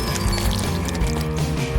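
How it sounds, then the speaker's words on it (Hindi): Thick liquid chocolate pours into a plant pot in a short, steady, close pour with faint clinks, no talking. "चलो अब चॉकलेट इसमें डाल देता हूँ।"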